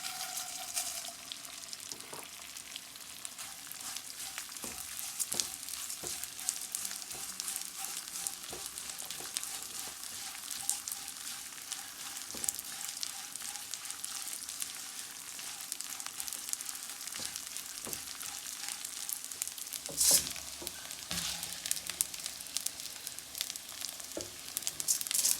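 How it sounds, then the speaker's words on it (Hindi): Edible gum (gond) frying in a pan for chana dal panjeeri gives a steady close sizzle with crackles and small pops throughout, no talking. "अब हम इसे गोंद डालते हैं थोड़ी थोड़ी करके।"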